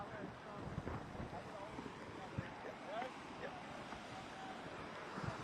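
Strong wind buffets the microphone on a San Diego beach where kiteboarders ride ahead of Hurricane Hilary, a steady, full roar with gusty swells and faint background voices underneath.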